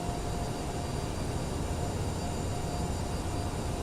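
A CRJ700 regional airliner taxis in a flight simulator game, giving a steady, even jet engine whine and broadband rumble that holds constant throughout with no talk.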